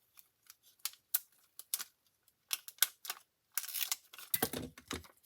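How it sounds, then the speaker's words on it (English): Scissors cutting a scrapbook embellishment in half: a series of faint, close snips and crisp clicks in uneven bursts, ending with a denser rustle of paper or plastic. "Let's see what happens if I cut it in half."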